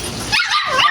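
Tiny nano exotic bully puppy, about three and a half months old, giving a few quick high yips and whimpering barks close by, with no talk over them.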